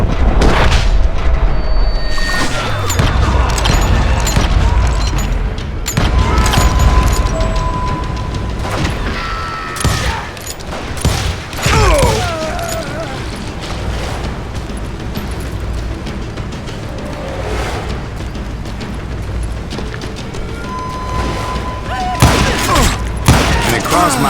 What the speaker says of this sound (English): now that the shooting had started, there was no backing down